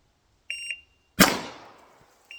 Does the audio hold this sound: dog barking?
no